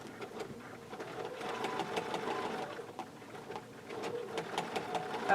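A sewing machine stitching while quilting blocks, running steadily with a fast rhythmic needle chatter and mechanical hum, moderately close and fairly quiet, with no talk over it.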